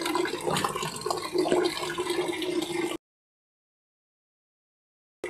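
Dirty water draining out through a hole in an air conditioner outdoor unit during cleaning, a steady trickling and splashing flow for a few seconds that stops abruptly, with no talking.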